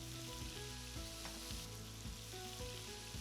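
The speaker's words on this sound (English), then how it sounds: "Now add an egg straight to the pan and scramble it in with the noodles." Egg and half-cooked noodles for pad thai sizzle steadily in a hot pan, a continuous dense frying hiss with faint scraping stirs from a utensil, no voices.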